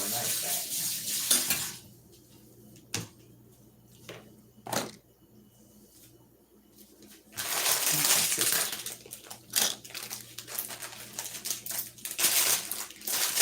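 Green beans are cut with a knife on a board, making sharp, irregular chops and crunchy cuts in close bursts, some louder strikes and clatters between quieter pauses.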